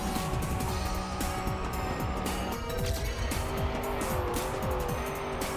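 Trackmania desert car racing in a video game, a loud continuous engine roar with shifting revs, tire squeals and skidding on hard turns, steady throughout with no talking.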